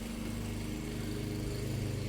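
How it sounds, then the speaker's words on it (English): A lawnmower engine drones steadily nearby as it passes through a Zone 7B garden, a continuous loud motor hum with no talking. "my husband is coming through with the lawnmower"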